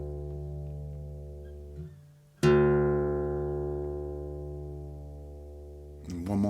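A guitar string tuned down from E to D for open G rings out as a single plucked note, sustaining and slowly fading, following the decay of an earlier note and a brief pause.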